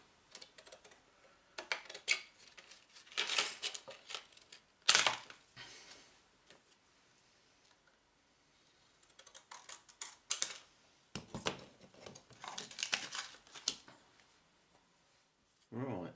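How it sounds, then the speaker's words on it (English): Squares of plastic sheet being cut out to make windows for a miniature tabletop terrain greenhouse, intermittent close scratchy cutting strokes in short bursts separated by quiet gaps. "cutting out squares of usable plastic that I can use to put windows in my greenhouse"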